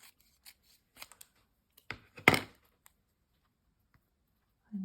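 Scissors snipping paper for an altered playing card, a few sparse close snips and crisp cutting strokes clustered midway, otherwise near silence.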